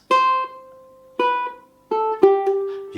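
Ukulele fingerstyle melody of Joy to the World with notes fretted too soon: four bright plucked notes, close and clear, each ringing briefly before the next, with no voices.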